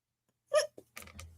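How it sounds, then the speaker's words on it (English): A single short hiccup-like gulp followed by a faint throaty sound and a brief breathy noise, close and quiet in otherwise silent surroundings. "Is that a hiccup?"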